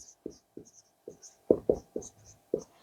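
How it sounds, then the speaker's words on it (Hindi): Marker squeaking and tapping across a board during a Hindi lecture, in a series of short, distinct strokes with brief pauses between them, fairly close and alone with no talk over it. "यहाँ पे लिखता हूँ"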